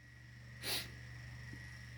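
A single quick, loud sniff made by a voice imitating someone sniffing, then a quiet pause.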